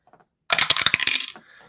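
Dice for an APBA baseball board game tumble onto a hard surface in one quick burst of bright clicking and clattering that trails off into a few light taps, loud and close.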